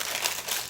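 A plastic package of chocolate melts is torn or cut open, a close, bright crinkling rustle lasting under a second with no voices.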